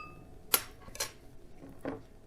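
A metal spoon stirring a Yakult and soju mix in a glass, giving a few faint, separate clinks and taps spread over a couple of seconds in a quiet room.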